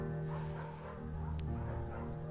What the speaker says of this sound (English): Buck's a good dog